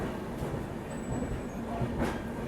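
Rajdhani Express pulling out of Moradabad station, a steady low rumble of rolling stock with faint rail noise and a brief high whine, continuous and moderately distant.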